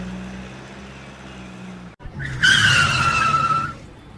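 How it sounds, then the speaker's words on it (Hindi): A car's tires skid and squeal loudly as it swings around off a footpath, a sharp screech rising after a low engine rumble and a brief pause. "मैं जरा फुटपाथ से गाड़ी घुमा लेता हूँ"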